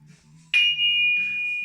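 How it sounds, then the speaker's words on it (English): Louis XIII glasses clink together once, giving a bright sharp strike that settles into a sustained, pure ringing note that lingers and slowly fades, with low murmuring background sounds underneath. "there's a specific ringtone that these glasses make when they're clinked together"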